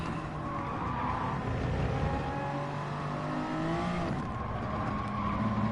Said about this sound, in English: This guy manages to do a drift and then blocks entire track completely.